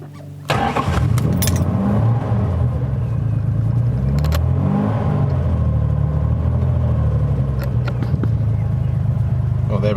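An Aston Martin DB6 Vantage engine fires up and revs hard, a loud close rumble rising and falling through repeated blips for the whole stretch, with voices talking underneath.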